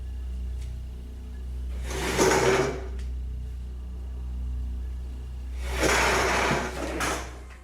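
A wooden dining chair scrapes and shifts across the floor twice on its own at dinnertime, each movement a brief grinding rasp over a steady low hum in an otherwise quiet room.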